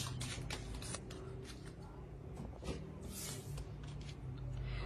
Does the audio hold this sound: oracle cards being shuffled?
yes